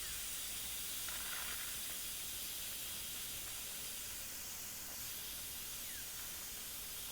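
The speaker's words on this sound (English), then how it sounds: "So the pressure has been released." Steady broadband hiss of steam venting from an Instant Pot 9-in-1 electric pressure cooker during pressure release while cooking beef caldereta, continuous and fairly loud for the whole stretch with no talking.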